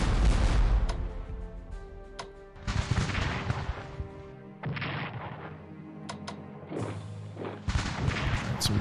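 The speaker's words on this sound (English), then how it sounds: "let's bombard these international troops in the south" Artillery bombarding troops in the Strategic Command: Franco-Prussian War game, a series of loud separate booming shots and blasts, each trailing off before the next, with short quiet gaps between volleys.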